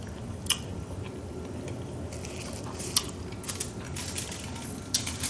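Close, steady chewing of food coated in Miss B Love sauce, soft wet squishes and occasional sharp crunchy clicks over a constant hiss, with no talking.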